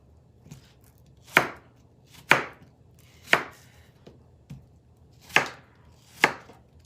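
Apples chopped into big chunks with a coated chef knife on a board, six sharp, evenly spaced close chops with a few faint taps between, no talk.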